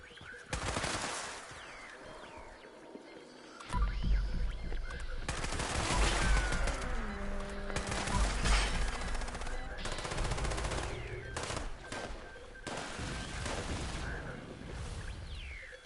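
Heavy rifle gunfire during a Fallout 76 event, with dense repeated shots and bursts over a constant rumble of game noise, growing louder after a brief quieter opening.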